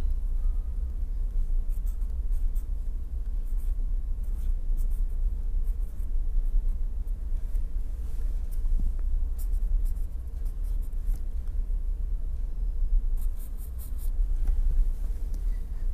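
Chalk taps and scrapes on a board during an engineering lecture on plate dynamics, a steady stream of short scratchy strokes and ticks over a low room rumble, with no one talking.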